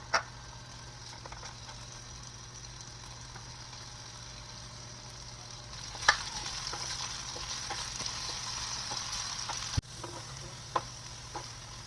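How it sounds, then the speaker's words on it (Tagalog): Potatoes fry in hot oil in a pan, a soft continuous sizzle that grows louder partway through, broken by a few sharp clicks and taps of utensils, with no talking. "Una, naglagay muna ako ng mantika sa mainit na kawali. Pagkatapos niyan, magpiprito muna ako ng patatas."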